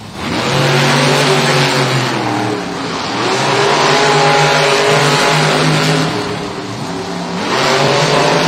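Two Monster Jam monster trucks, Black Pearl and Wildside, race head to head at an arena event in Newark, NJ, their engines roaring loud and close in sustained revving surges that rise and dip as they power along the track.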